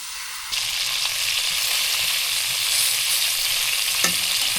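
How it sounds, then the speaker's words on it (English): Pieces of squirrel meat fry in oil in a pot at a winter mountain campsite, a loud steady sizzle that starts abruptly and continues, with a brief clatter near the end. "Start browning our squirrel parts in that oil."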